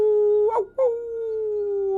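A single long wolf howl rises, breaks briefly and then holds a steady, mournful tone, clear and sustained with no voices over it.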